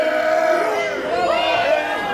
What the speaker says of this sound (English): With every chop, the crowd is chanting weak